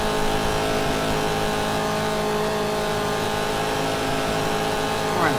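A 1967 Chevy race car in the racing game GTR2, at Daytona Road Course in a Trans Am series, holds a steady, loud engine drone at high revs, with a brief rise in pitch near the end.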